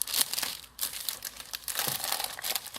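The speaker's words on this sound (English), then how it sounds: "Now I'm going to peel it up." Crinkly plastic cover wrap being peeled and crumpled off a photo book, a close, continuous crackling rustle with sharp tearing bursts and no talking.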